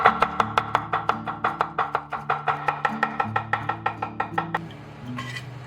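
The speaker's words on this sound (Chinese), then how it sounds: "斜刀先切片，然后再给它铺平整，然后切丝" Knife chopping unpeeled young purple ginger on a board, first angled slices then thin shreds: a steady run of about twenty crisp, evenly spaced strikes, close and clear, over a low constant hum, stopping near the end.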